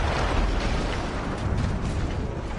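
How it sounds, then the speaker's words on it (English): Explosion in the video game Battlefield 1: a dense, sustained roar of rumbling blast noise fills the whole stretch, loud and unbroken with no talk. "That explosion was one of the sweetest sights of the war."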